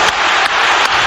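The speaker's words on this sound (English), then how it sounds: "The Rangers crowd," A large Rangers football crowd at a European night match against RB Leipzig sends up a loud, dense wall of cheering and applause that roars on without pause through the whole moment.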